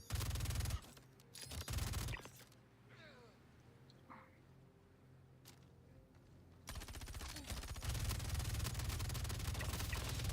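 Bursts of rifle fire in the video game Star Citizen, with the magazine emptied in rapid automatic volleys: loud, dense runs of shots at the start and again at the end, with a quieter gap between.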